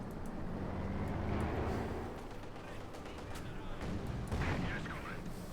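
Artillery in the Company of Heroes 2 strategy game thunders amid a dense, constant battle din of booms and rumbling, with a commentator talking over the noise throughout.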